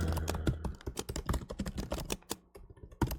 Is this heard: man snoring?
no